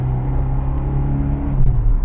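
SEAT 131 with a 90 horsepower engine droning steadily while driving, a close, loud low rumble with a constant tone and no speech.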